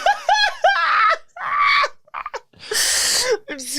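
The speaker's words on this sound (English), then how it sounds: "I'm screaming." A person screaming in a string of loud, close bursts with breathy gaps, the shrieks sliding into laughter-like yelps and a harsh, noisy cry near the end.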